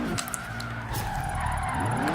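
An all-wheel drive car drifting through a drift zone in Forza Horizon 3, its tires skidding and squealing over a steady engine drone, continuous and close, with no talk.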